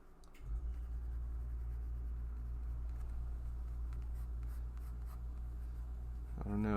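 Pencil scratching steadily across paper while drawing, a continuous close, soft scraping texture over a low background rumble, with no speech.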